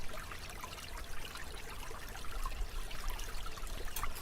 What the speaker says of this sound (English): Cute babbling brook.